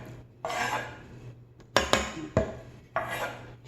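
Minced garlic is scraped into a soup pot for chicken and bok choy soup, heard as close clinks and scrapes of a utensil against metal, with several sharp taps between bursts of sliding and rustling.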